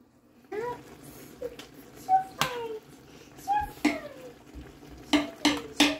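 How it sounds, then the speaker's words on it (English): Sweet and sour bass pieces are set back into a pan of boiling sauce, bringing a few soft plops and sizzles along with sharp clinks of a utensil against the pan, with brief kitchen clatter spread across the moment. "So now we add back the fish."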